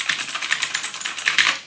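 Continuous rapid clacking from an Allreli K643 mechanical RGB keyboard with Blue switches, loud, crisp and close, a dense steady stream of tactile clicks with no pauses and no voices.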